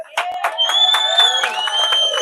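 A crowd at a protest outside a migrant hotel in Bangor makes loud, close shouting and cheering, with overlapping raised voices and whoops that carry continuously throughout.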